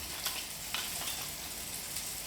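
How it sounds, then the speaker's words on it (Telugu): Ginger-garlic paste and coriander powder masala frying in a pan, a steady close sizzle with faint stirring scrapes, no talking. "దీన్ని కూడా మనం బాగా ఫ్రై చేద్దామండి"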